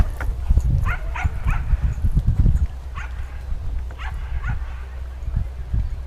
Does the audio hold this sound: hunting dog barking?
yes